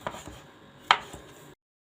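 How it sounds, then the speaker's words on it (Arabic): A few knife chops on a cutting board while preparing ingredients for a quick home snack, sparse close taps with one sharper strike near the middle before the sound cuts off. "كده احنا قطعنا كل حاجه"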